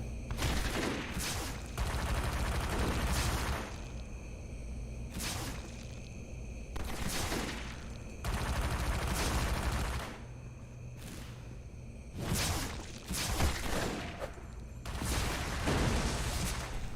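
Loud bursts of video game gunfire come in repeated volleys, with sharp crackling shots and whooshing blasts over a steady background hum, separated by brief quieter gaps.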